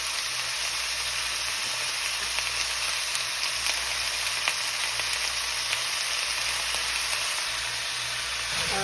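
Pork pieces frying in a pan until golden brown for adobo, giving a steady, dense sizzle that holds evenly throughout with no voices.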